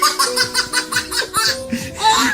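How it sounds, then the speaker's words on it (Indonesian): A Papuan baby laughing and babbling in quick rhythmic bursts of giggles and squeals, close and loud, with a short vocal coo at the end. "Suara bayi Papua."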